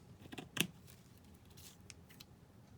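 A few crisp snips of scissors cutting through lace held together by net, close and quiet, with a couple of light clicks between cuts and no voices.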